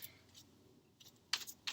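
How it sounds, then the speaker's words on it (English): Tarot cards being shuffled by hand, soft papery riffles and a few sharper flicks of cards, close and quiet, with no talking. "I'm going to keep shuffling because a whole bunch of cards fell out"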